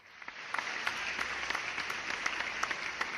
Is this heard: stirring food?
no